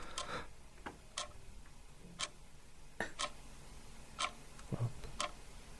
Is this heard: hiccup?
no